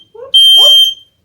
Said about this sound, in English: Fire alarm.